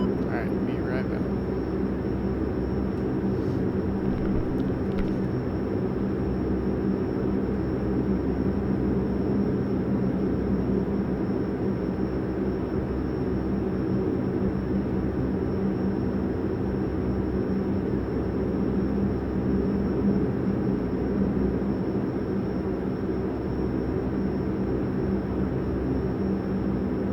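A parked Dash 8 turboprop airliner's engines idle with a steady, loud droning hum and a constant high whine, running unbroken throughout.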